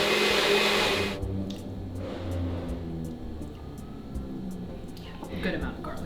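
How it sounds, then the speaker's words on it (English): A blender runs loudly while blending smoky Palestinian eggplant dip (mutabbal) with garlic and black pepper; a harsh burst in the first second then settles into a steadier whir, with voices talking over it. "So then we just gotta blend this up."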